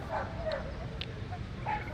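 Dogs of many breeds bark and yip at a family dog show held on an open ground in Jwalakhel, Lalitpur, Nepal, scattered short yelps heard faintly over a low crowd murmur and distant voices.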